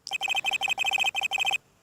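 A cell phone ringtone of the Steel Samurai theme from the Ace Attorney game plays on its own, a loud, bright electronic melody of quick repeated beeping notes in short bursts for under two seconds.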